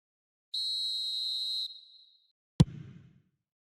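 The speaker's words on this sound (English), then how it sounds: "the whistle's gone, presumably for offside" A referee's whistle in the eFootball video game gives one sharp, sustained blast of about a second, followed a moment later by a single sharp thud with a brief rumbling tail.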